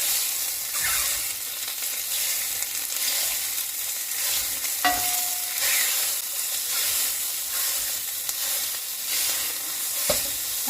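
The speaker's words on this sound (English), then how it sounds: "I've got my mix and chop here, and that's going to help me just break up the meat" Pork sausage meat sizzles steadily in a frying pan as a mix-and-chop tool breaks it up and stirs it, with soft scraping and clicks over a continuous close hiss and no talking.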